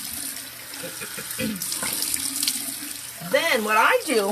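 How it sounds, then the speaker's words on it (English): A bathroom tap runs steadily into a sink during an evening skin care routine, a close continuous wash of water with a person talking over it near the end. "I'm going to turn my water on"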